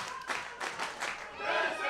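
Wrestling crowd at the Monster Factory roaring and clapping after a spear through a door, a dense sustained wash of cheers with scattered hand claps and shouts that swells louder toward the end.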